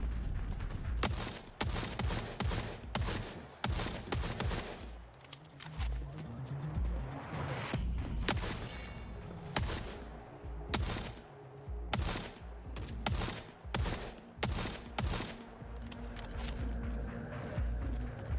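Rapid bursts of pistol gunfire in the shooter video game The Forever Winter, sharp repeated shots in quick clusters with brief pauses between volleys, loud and close throughout.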